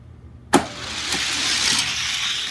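A Healer racing car launches at a drag-racing event, a sudden loud burst followed by a sustained whining roar as it speeds down the lane, with no voices.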